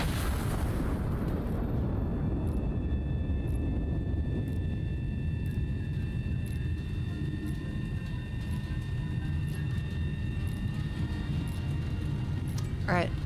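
A heavy artillery gun fires an armour-piercing shell with a sharp, loud blast at the start, and a long rumbling decay then fills the rest under a steady hum.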